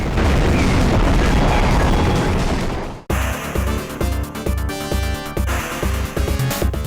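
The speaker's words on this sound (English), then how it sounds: "Everything around you is booming or bursting or collapsing in the grandest" Explosions and booms from the shoot 'em up video game In the Hunt: a dense, roaring rumble of blasts gives way after a sudden cut to rhythmic thudding bursts over pounding game music.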